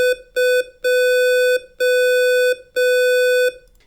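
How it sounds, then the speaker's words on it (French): Morse-code beeps sound from an opened chest in an escape game: a loud, steady electronic tone in a rhythmic series of short and long beeps, clear and close, with no talk. "ce coffre émet 3 séries de bips qui sont en réalité du morse"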